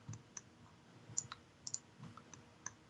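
Computer mouse clicking during CAD modelling work: scattered light clicks, some in quick pairs, at an uneven pace, close-up and faint in a quiet room.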